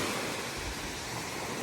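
Ocean waves wash in at the beach as a steady, broad rush of surf, close and moderately loud, with no voices over it.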